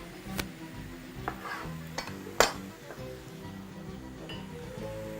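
Egg salad with halved cherry tomatoes is mixed in a bowl, giving soft stirring sounds with a few sharp utensil clinks against the dish, close and fairly quiet.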